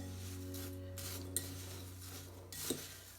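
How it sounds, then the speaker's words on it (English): A fork stirs and scrapes through a pepper jack potato casserole mixture in a dish, giving soft rubbing scrapes with a few sharp clinks, alone over a steady low hum. "Mix that together. Just be easier with a fork."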